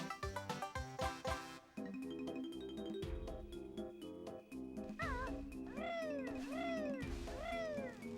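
Moggy the cat in Banjo-Tooie gives several bending, wavering meows over bouncy game music and jumping sound effects, repeating toward the end.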